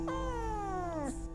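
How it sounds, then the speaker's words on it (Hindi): A pet cat lets out a single drawn-out meow that slides downward and ends with a soft breathy catch, heard close and clear over a faint background hum. "तो म्याऊं म्याऊं करके बाय कर दो सबको"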